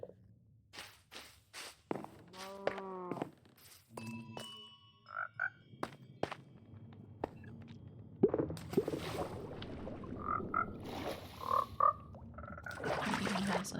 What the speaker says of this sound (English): Oh, the frog is stuck down there